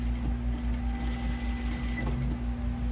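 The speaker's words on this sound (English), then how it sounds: "Sewing along." A sewing machine stitches a Closet Core Carolyn pajama shirt, running in a steady, even mechanical whir with a fast regular needle beat, close by and without talk.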